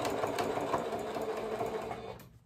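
A sewing machine runs steadily for about two seconds, stitching cord-filled piping onto fabric along a bias strip for a diaper and wipes holder, with a continuous close whirring hum before stopping abruptly.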